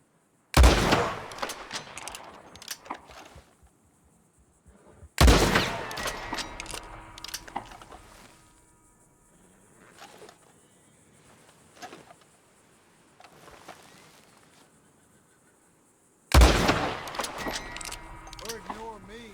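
Gunshots in the Red Dead Redemption 2 video game: three loud, sharp blasts spaced several seconds apart, each with a long decaying tail, with quieter game ambience and occasional talk between them.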